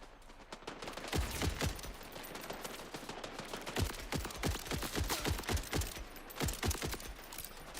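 Rapid gunfire from a weapon in the video game Borderlands 4, bursts of sharp shots with brief gaps, steady and fairly close, no talking.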